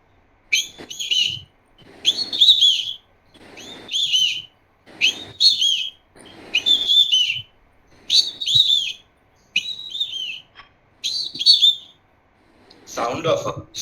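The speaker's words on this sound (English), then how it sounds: "Sound of a Indian nightingale." An Indian nightingale repeats a clear whistled song phrase about ten times in steady succession, loud and close, with short pauses between the phrases.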